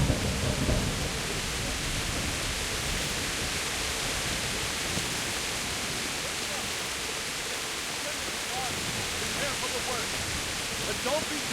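A thunderstorm in Kingdom Come: Deliverance: a steady wash of heavy rain and a low rumble fill the whole stretch at a constant, loud level, with faint muffled voices underneath.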